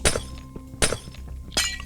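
Glass blocks shattering in Minecraft, three sharp crisp breaks spaced evenly apart, each a bright clinking crack with light thuds between, close and loud with no talking.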